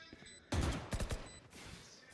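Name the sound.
gunfire in video game Valorant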